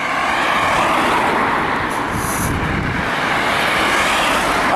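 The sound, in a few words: road traffic leaving Maldon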